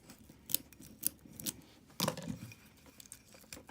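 Cured silicone being peeled out of a pot for mould casting gives quiet, close tearing and crinkling sounds in short bursts, with one louder rip near the middle and no talking.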